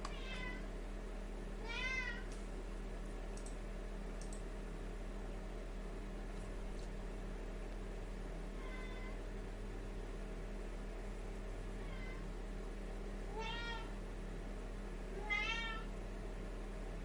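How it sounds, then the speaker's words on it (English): A pet cat named Puskins meows several times, drawn-out wavering cries scattered across the stretch over a steady low indoor hum, with long quiet gaps between them. "I don't know what's wrong with my cat today."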